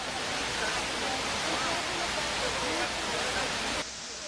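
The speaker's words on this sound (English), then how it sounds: "watch the water continuously get sucked down into the depths of the earth" Steady, loud rushing roar of water pouring down into the square granite pools of the 9/11 memorial at Ground Zero, continuous and broadband, cutting off abruptly at the end.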